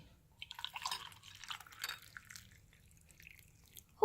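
Tea poured into a cup until it brims and spills over, a close liquid trickle with drips and splashes lasting a few seconds before a sudden louder clatter at the end.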